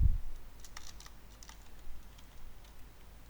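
Someone types a search term on a computer keyboard, a quick run of light key clicks, faint and close, in a quiet room with no talking.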